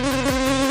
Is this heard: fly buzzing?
yes